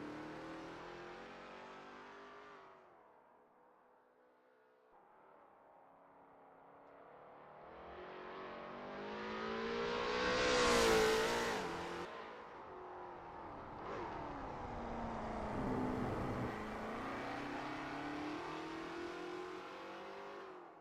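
Lola T70 MkII Spyder race car on a practice out lap at Road America in a racing game, its engine revving up to a loud, high peak mid-lap, then dropping and climbing again, with no talk.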